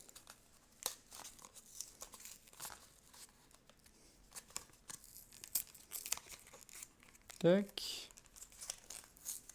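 Keyforge deck packaging being torn open by hand, with scattered crinkles and rips building to a sharp loud tear near the end, while someone speaks French briefly.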